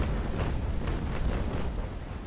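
A broadside of 6-pounder long cannons fired from a sailing warship in Naval Action Legends rolls out as a sustained, overlapping series of heavy booms with several sharper cracks, loud and close, with no voices over it.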